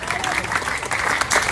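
A church congregation cheers and applauds for Jesus, loud continuous clapping and crowd noise filling the short stretch, with a preacher's voice blending in.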